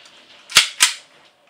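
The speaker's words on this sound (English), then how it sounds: "Now we'll just fire off the weapon." An airsoft pistol fires two sharp, close snapping shots about a quarter second apart, each a crisp crack with a brief decay, in an otherwise quiet room.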